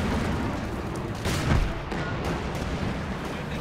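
Sniper rifles firing in Company of Heroes 2, a Soviet and British versus Wehrmacht battle, as one sharp, loud crack with a booming tail rises out of a dense, continuous wash of distant battlefield noise.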